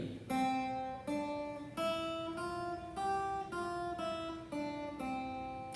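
A guitar picks the note C eight times in a steady rhythm, each pluck ringing briefly before the next, fairly quiet and alone.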